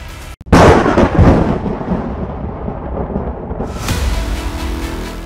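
A heavy thunderclap bursts after a brief silence and rolls on as a deep rumble, fading then swelling again during a typhoon-driven storm over northern India, with no voices.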